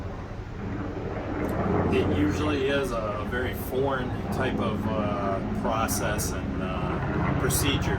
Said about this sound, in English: there happens to be a helicopter